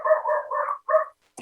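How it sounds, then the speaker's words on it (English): Dogs barking in short bursts, several tonal yaps in quick succession then a pause and another bark, fairly close and clear with no talking over them. "the dogs are barking"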